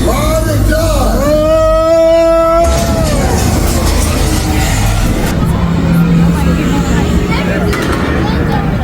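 A car engine revs loudly during a Universal Studios Hollywood studio tour ride, a roaring surge that follows a shouted voice and rising whine, then settles into a dense, sustained rumble.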